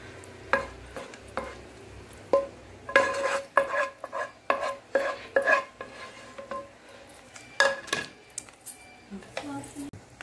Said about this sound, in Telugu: బాగా కలుపుకోవాలి.